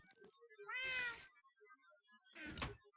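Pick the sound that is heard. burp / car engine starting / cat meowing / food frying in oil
cat meowing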